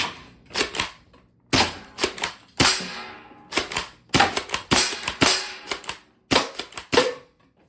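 A Dart Zone Pro Nexus Pro X foam dart blaster slam-fires in rapid bursts, sharp loud cracks and clacks coming in quick irregular clusters with brief gaps, close to the listener and without talk.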